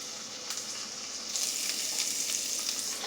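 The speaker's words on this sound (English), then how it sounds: "when I'm cooking the onions and the scrapple in is some olive oil" Scrapple and onions frying in olive oil give a steady, close hiss and sizzle that swells slightly partway through, with no voices over it.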